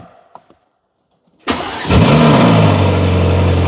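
A Ferrari engine fires up in a loud start: a few faint clicks, a brief silence, then a sharp crank that bursts into a close roar before settling into a steady, rumbling high idle.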